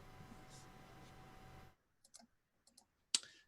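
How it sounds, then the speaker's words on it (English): Computer mouse clicks during an online tabletop RPG session: a few sharp, quiet clicks spaced apart, then one louder click, following a stretch of soft background noise. "And I keep clicking on the wrong page."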